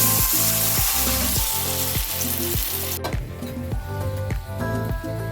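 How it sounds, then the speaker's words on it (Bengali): Potato slices dipped in gram flour batter sizzle and crackle steadily in a pan of hot oil, a continuous busy frying hiss throughout with no voices. "এক এক করে আলুগুলো ব্যাটারের মধ্যে চুবিয়ে ভেজে নেব।"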